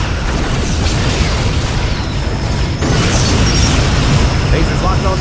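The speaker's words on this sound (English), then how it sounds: "Borg vessel destroyed" A Borg vessel exploding in the Star Trek Legacy video game on Xbox 360, heard as a dense, continuous roaring boom with rumbling crackle that surges midway and stays loud throughout.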